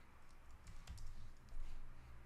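Quiet, quick keystrokes on a computer keyboard click in uneven bursts, with a couple of brief pauses between runs.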